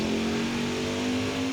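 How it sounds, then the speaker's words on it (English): Xfinity race car engine in NASCAR Heat 5 at the Charlotte Roval, a loud, steady, close-up high-pitched whine held at sustained revs for a brief moment, with no talking. "I am here at the Roval driving an Xfinity car in test session in the Heat 5 video game"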